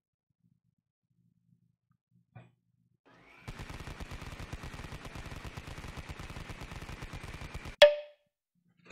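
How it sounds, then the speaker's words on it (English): Automatic gunfire in Call of Duty: Black Ops Cold War, a steady rapid burst of shots lasting about four seconds, fairly quiet and distant-sounding, ending in a sharper louder crack, with no talking. "I shot in the general direction of somebody"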